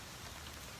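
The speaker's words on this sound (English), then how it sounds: "So this is crazy with the rain" Rain falls steadily in a dense, even hiss, close and constant throughout with no talking.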